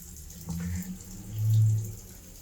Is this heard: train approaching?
no